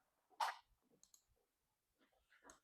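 A single sharp mouse click on the Build option in Google AI Studio, quiet and close, followed by faint soft clicks and rustles in an otherwise hushed room.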